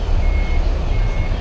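Reversing beeps from a Sinar Jaya double-decker bus parking at the agency in Medaeng: a steady high tone pulses in two stretches over a loud, close low engine rumble.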